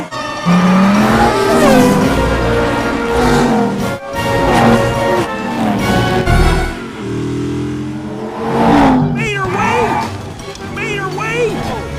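Race cars from Cars 2 roar bumper to bumper toward the finish line: loud revving engines, tire squeals and skids, with voices talking over the racing noise throughout.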